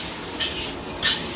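Mutton liver cooking in a pan, a steady low sizzle with two brief scraping clinks of a utensil against the pan, close and alone.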